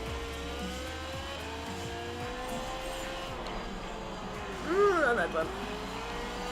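A sports car engine drones steadily while racing in Gear.Club Stradale, then revs sharply in a brief rising whine near the end, with someone talking briefly over it.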